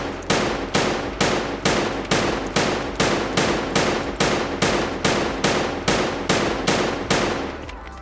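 An ADAR rifle fires on a firing range in the video game Escape From Tarkov: about thirteen loud, evenly spaced single shots in a steady rhythm, each with a sharp crack and short decay.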